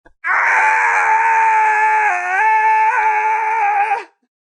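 A human voice imitates Goku from Dragon Ball Z giving a long, strained yell of nearly four seconds. The yell is loud and sustained, wavering slightly in pitch, and is heard alone.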